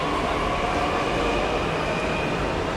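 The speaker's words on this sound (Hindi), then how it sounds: "और ये हमारी मेट्रो रेल।" A Delhi metro train pulls out in a steady broad rumble with faint rail hiss, close and continuous, no voices.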